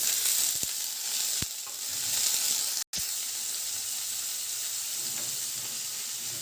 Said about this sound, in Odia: କଡ଼େଇ ଗରମ ହୋଇଗଲା ପରେ ସେଥିରେ 2 ଚାମଚ ତେଲ ଦେଇଦେବା।